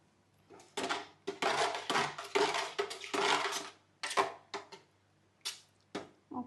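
A spoon stirs a thick yogurt mixture in a bowl for perugu vada, making a rhythmic series of short scraping, clinking strokes with brief pauses between them, close and fairly clear.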